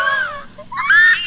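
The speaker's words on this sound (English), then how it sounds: "She's screaming." A girl screams in The Sims 4, two short shrill wailing bursts in quick succession, loud and close with no talk.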